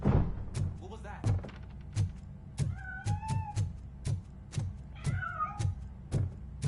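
In the video game RoboCop: Rogue City, a cat meows a few times, short plaintive calls between a steady rhythm of heavy thudding footsteps, with a voice speaking faintly in the scene.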